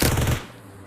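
Burst of rapid automatic gunfire in the mobile battle royale game BGMI, loud and close, a dense rattle of shots cutting off abruptly partway through.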